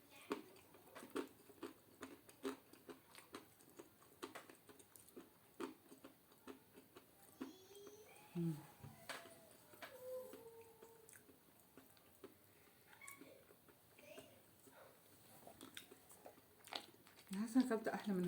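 Umm Ali dessert being eaten close to the mic, with soft, quiet chewing and small wet clicks in an irregular rhythm while a voice speaks now and then.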